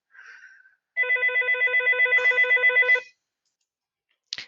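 A telephone bell rings in one sustained trilling burst of about two seconds, loud and close. A short tonal chirp comes before it and a brief click after, with no talk.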